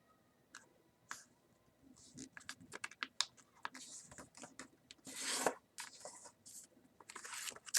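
Paper being creased and folded by hand while shaping a paper F-14 jet model with an intake, crisp rustles and sharp crinkling taps arriving in irregular bursts, close and fairly quiet, with a longer scraping crease midway.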